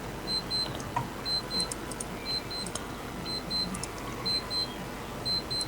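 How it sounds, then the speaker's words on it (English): A fire alarm beeping in the background, a high electronic tone pulsing in regular paired beeps over a steady hiss, faint and distant. "who's got the fire alarm going off in the background?"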